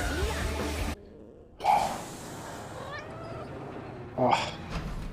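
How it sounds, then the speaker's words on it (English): Loth-cat from Star Wars: Ahsoka meowing, two short drawn-out cries a few seconds apart over a soundtrack background, fairly close and distinct. "such a faithful loaf cat"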